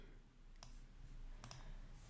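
Mouse clicks while working in Illustrator: two or three quiet, sharp clicks spaced apart, with a faint steady hum underneath and no talking.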